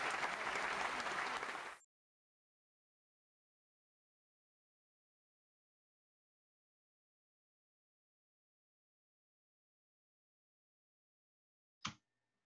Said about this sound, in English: we'll let the crowd go wild for a second